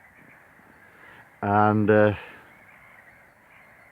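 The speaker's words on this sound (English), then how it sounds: "you can hear the birds screaming" Crows caw loudly twice in quick succession beside a lake, standing out clearly over a quiet outdoor background on a morning by the water, with a brief spoken word nearby.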